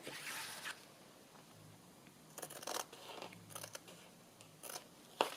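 Scissors trim the edges of a fabric-covered old ledger journal card tag in a run of short, close snipping and crunching cuts with brief pauses between them, no talk.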